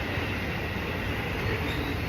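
A train at a Tokyo station rumbles loudly and steadily, with a constant rolling roar of wheels on rails throughout and no voices.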